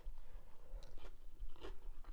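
Someone bites into a warm griddle-grilled fluffernutter sandwich and chews, a few soft crunchy bites followed by quiet close-up mastication.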